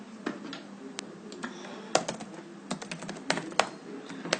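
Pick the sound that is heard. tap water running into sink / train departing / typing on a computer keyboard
typing on a computer keyboard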